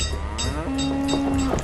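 Cattle in the village-building game Banished let out a single loud, drawn-out moo, close and clear over a light ambient background.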